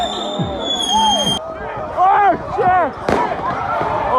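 Halloween party fireworks and firecrackers going off on all sides: sharp nearby bangs, a loud close burst, and whistling rockets over excited voices and crowd chatter.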